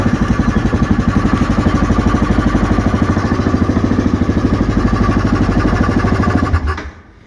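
A 2024 Yamaha Grizzly SE ATV engine idles close by with a steady, even low throb, then cuts off and fades to quiet near the end.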